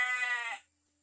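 A single sheep bleats once, close and clear, a wavering call lasting about half a second in a quiet mountain farm setting, then silence.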